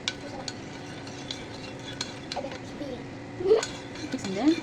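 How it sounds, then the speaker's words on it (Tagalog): A spoon or utensil stirring gulaman mixture in a pot, with scraping swirls and occasional clinks against the side, close and moderately loud, mixed with a voice talking. "Mix and mix and mix"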